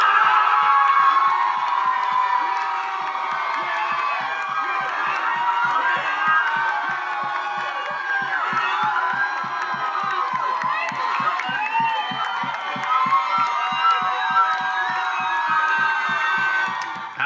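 Crowds outside cheer after the Obamacare repeal bill failed in the Senate, a sustained wash of distant shouting and whooping with rhythmic chanting pulses underneath, continuous throughout.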